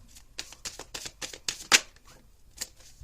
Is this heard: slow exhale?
no